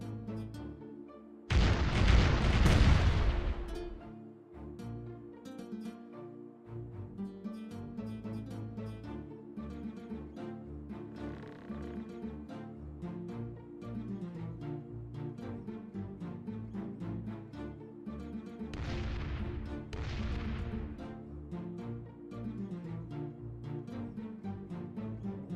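Ship cannon broadside in the pirate game Caribbean Legend: a sharp, loud blast early on, followed by a second softer boom about 17 seconds later, both over a steady musical soundtrack.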